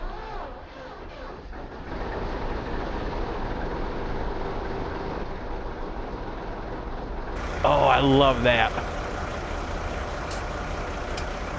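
A farm vehicle's engine in Farming Simulator 19 runs steadily at close range with a constant low drone, joined near the end by a brief louder burst with hissing, while someone talks over it.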